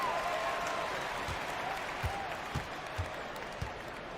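Steady crowd applause and cheering in a basketball video game, a broad continuous roar of clapping with a few thumping bounces or footfalls underneath, while a commentator talks over it.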